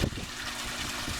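Water trickles down a stone spillway into a renovated fiberglass and concrete pool, a steady soft splashing wash that holds evenly for the whole moment, close and unbroken.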